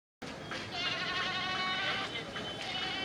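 Goats bleating at a busy livestock market before Eid, several overlapping wavering calls close by over crowd murmur and voices.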